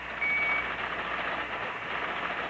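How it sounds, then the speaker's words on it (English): A pocket alarm watch going off in an old-time radio mystery drama, a steady high electronic tone with a brief beeping note early on, sounding continuously at moderate loudness with no talk. "I've got a pocket alarm watch, and it keeps trying to tell me something."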